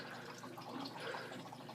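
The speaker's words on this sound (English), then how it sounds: "As you can see, it's filling up with water." Water trickles and splashes steadily into a DIY trickle tower sump tank, a soft continuous close-up pouring with light dripping textures and no speech.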